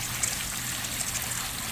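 A pool fountain with LED lights sprays water in a steady, continuous splashing hiss, close and even throughout, with no voices.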